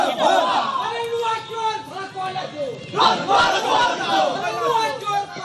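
A crowd outside a police station in Pingla chants 'thief' slogans after a local Trinamool block president's arrest; loud, overlapping shouted voices rise and fall in repeated bursts, close and continuous.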